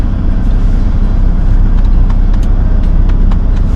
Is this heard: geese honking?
no